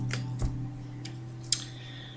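Tarot cards cut from the deck produce a few brisk, dry shuffling snaps and taps, one sharper flick near the end, close and quiet over a low background hum.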